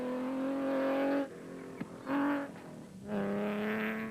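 A Sasol Nissan Navara rally truck races hard through a 2008 Limpopo 400 stage, its engine droning loud and steady, dipping briefly, then surging back as it revs and accelerates past.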